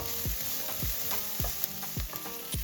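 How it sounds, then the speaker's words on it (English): Chopped onions fry in a pan with a pinch of salt, giving a steady close sizzle with a few soft stirring scrapes repeating about every half second. "add in the chopped onions, and cook until translucent with a pinch of salt"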